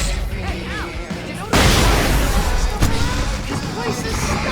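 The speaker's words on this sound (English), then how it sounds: "I can set off more of the fireworks from here and help you out!" Fireworks going off in the video game Alan Wake, a sudden loud burst followed by continuous crackling and popping, with another sharp bang shortly after under a noisy game scene.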